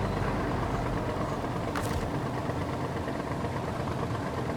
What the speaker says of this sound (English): It's the engine to the tractor probably still running.